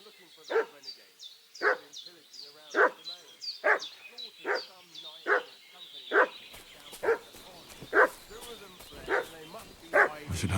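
A dog barks repeatedly in a steady rhythm in Kingdom Come Deliverance 2, the sharp barks fairly close and loud, with a few higher clicking or clattering noises joining partway through.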